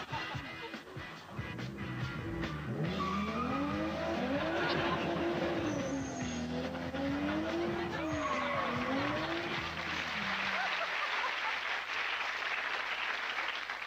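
A car skids away fast with long wavering tyre squeals rising and falling over engine noise, close and loud, then cutting off into a quieter rumble.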